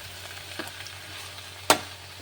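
Chickpea curry fries with very little oil in a pan while being stirred: a faint, soft sizzle with light scraping and one sharp clink of the utensil near the end.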